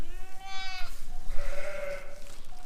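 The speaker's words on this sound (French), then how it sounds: "Donc voilà la brebis." A ewe bleats twice during lambing, a loud, wavering, nasal call followed by a second, longer bleat, with a brief faint trailing note at the end, close to the listener in a barn.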